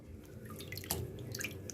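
Water used to wash the printed stamp off Aida cross-stitch cloth, heard as soft trickling and a few bright drips over a low, steady background, fairly quiet and close.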